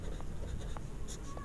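Chalk or marker scratching on a classroom board during a math lesson, a faint brief run of short scraping strokes against a quiet background.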